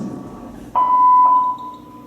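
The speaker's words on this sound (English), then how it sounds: "Leave a short message after the tone, and I'll call you back at my convenience" Answering machine beep on a theater stage during a play: one steady electronic tone held for under a second, clear and fairly loud against quiet room noise.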